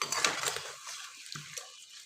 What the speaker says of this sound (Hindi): अच्छी तरह सालन को हिला दीजिए